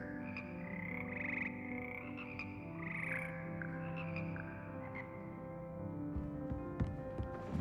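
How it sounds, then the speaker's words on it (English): The Hogwarts Frog Choir in Hogwarts Legacy croaks in layered, pitched tones, several frogs sounding together in a sustained musical chorus with brief higher chirps on top, moderately quiet and close. "Here perch the slimy yet symphonic frogs that comprise the Hogwarts Frog Choir."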